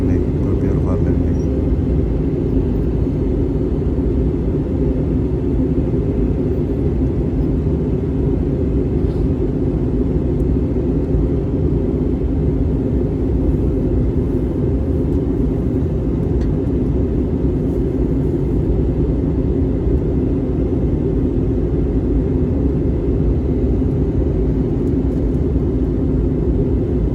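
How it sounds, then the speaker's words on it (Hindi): Passenger airplane cabin on descent toward Brussels airport at night, with a steady, loud broadband engine and airflow rumble running continuously throughout and no distinct events. "नीचे जा रहा है जहाज, अभी बादलों के ऊपर है"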